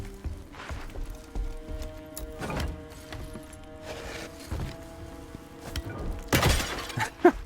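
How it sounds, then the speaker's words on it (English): Clay jars smashed in the action game The First Berserker: Khazan, several sharp shattering crashes scattered across the stretch, the loudest burst near the end, over a low game music bed. "I need to smash these jars."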